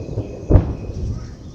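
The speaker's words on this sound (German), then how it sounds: "Ein Donner." A single brief thunderclap cracks out nearby during a storm at a building site on Koh Samui, Thailand, a short loud burst over steady rain and background rumble.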